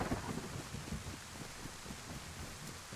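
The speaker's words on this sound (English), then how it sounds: "The thunderstorm and everything." A thunderstorm in the video game DayZ, with a steady wash of wind and rain noise and low rumbling swells throughout, fairly quiet and with no talking.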